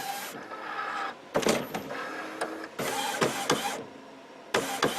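An Epson WorkForce WF-7710 series wide-format printer whirs in mechanical bursts as its carriage begins to shift, with several separate movement sounds and short pauses between them, close by and moderately loud.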